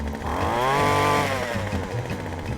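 A Manscaped Lawnmower 4.0 electric trimmer buzzes steadily as it runs over a cactus patch, a loud, close, continuous motor whine that rises and then settles, with no talking.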